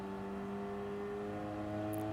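Ford Focus Cup race cars accelerating up the long Brands Hatch GP straight, a steady, droning engine note that holds constant throughout with a loud, continuous mechanical hum.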